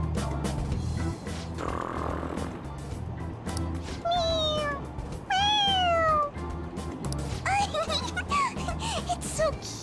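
A cat meows repeatedly in the video game Persona 5 Royal, a few rising-falling cries over steady game music and background sound.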